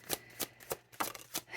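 Tarot cards are shuffled by hand in quiet, soft rhythmic bursts of riffling and slapping, roughly five brisk strokes close to the listener, with no talking.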